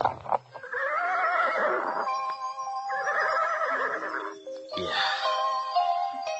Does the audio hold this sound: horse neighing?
yes